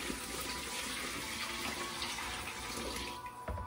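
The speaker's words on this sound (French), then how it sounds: "Je vais égoutter de l'eau sur mes poissons." Water running and draining steadily off fish in a kitchen, a continuous close splashing trickle with no voices.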